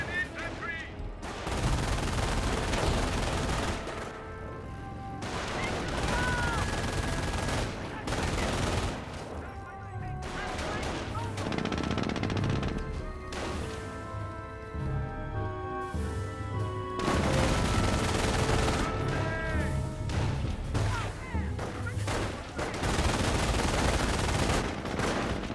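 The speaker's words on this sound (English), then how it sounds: "Our squad seen a bit of fire there, getting suppressed by the MG42." MG42 machine gun fire in the World War II strategy game Company of Heroes, repeated dense bursts of rapid shots with booming battle noise, loud and continuous with occasional pauses.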